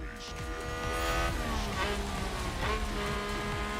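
A Formula 1 race car in the F1 Manager 2022 video game locks its wheels on a wet Dutch GP track, with loud tire squeal and engine whine sweeping for a few seconds over steady race-car drone.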